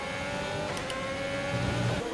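F1 car engine from the F1 2020 video game at the Bahrain Grand Prix, a steady high-pitched engine drone while entering the pits, continuous and loud with a brief rougher burst near the end.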